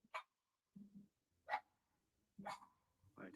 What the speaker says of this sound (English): you guys don't have to hear the dog